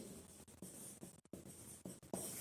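Chalk or marker strokes on a classroom board during a science class, a series of short scratchy bursts with small gaps between them, close and moderately loud, with no voices.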